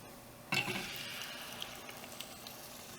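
Dal tipped into a pan of hot masala and coriander over low heat gives a sudden loud sizzle that settles into a steady frying crackle, with light stirring.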